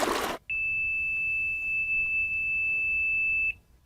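Pool alarm being armed gives one long, steady high-pitched beep lasting about three seconds, clear and close in a quiet room, after a short burst of noise at the start.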